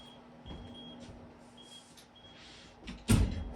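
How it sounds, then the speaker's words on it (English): A door being pushed shut indoors, ending in one sharp close bang near the end after a few quieter knocks and shuffles, over a faint steady electronic beeping tone. "Close this door right here."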